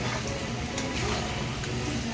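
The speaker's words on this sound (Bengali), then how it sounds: "কষিয়ে রান্না করবো না?" Food sautéing and frying in a home kitchen pan, a steady close sizzle with faint stirring scrapes running throughout without talk.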